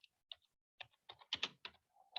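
Keys clack on a computer keyboard in short bursts, a few isolated taps followed by a quicker cluster of strokes, close and crisp against near silence.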